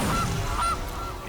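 A goose honk from the Gilded Goose card in the Magic: The Gathering digital game, two or three loud, nasal honks in quick succession, alone without talk.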